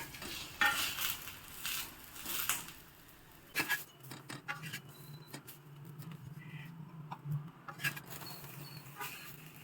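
Veg frankie wraps roast in ghee on a hot pan, with a soft sizzle, scattered clinks and scrapes of a utensil against the pan, close and fairly quiet.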